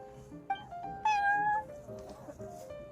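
A cat in Genshin Impact lets out a few rising meows over soft game background sound, a longer cry in the middle, no talking.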